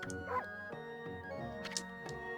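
A dog barks in the Okami video game, with sharp yips and bark bursts layered over game music and sound effects, fairly loud and repeated across the moment.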